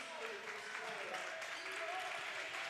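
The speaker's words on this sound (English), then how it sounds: "Crowd getting into it here in East Jordan." Crowd noise from a high school basketball game in the East Jordan gym, Charlevoix against East Jordan late in a close game, a steady broad roar of cheering and clapping that holds throughout, with voices mixed into it.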